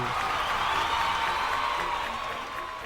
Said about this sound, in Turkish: Alkışlar mavi takıma geliyor.